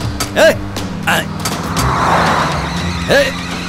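A car driving fast in a Hindi-dubbed South Indian action movie scene: a roaring engine with skidding tires, loud and close, under frantic shouting voices.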